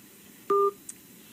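A single telephone keypad tone beeps while dialing out to an inspector on a phone line, short and clean against a faint background hum, followed by a tiny click.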